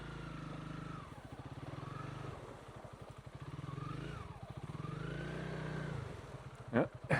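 Motorcycle picking its way across a rocky river crossing over significant stones on a Baviaanskloof route in South Africa, its engine rising and falling in repeated revs, with a clatter near the end.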